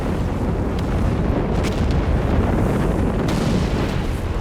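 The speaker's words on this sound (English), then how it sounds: "Another Stukas barrage here." Stuka dive-bomber barrage explosions in Company of Heroes 3, a loud continuous roar of blasts and rumbling detonations with no pause.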